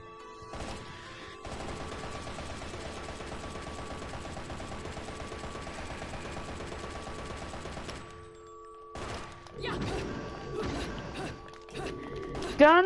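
In the Bayonetta video game, sustained rapid gunfire batters a wall for several seconds, dense and loud. The burst then breaks off into a few scattered impacts and clanks.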